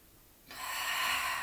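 A single long breathy exhale during a Pilates arm-rotation exercise with a large ball, starting suddenly midway and holding steady and fairly close, with no talking.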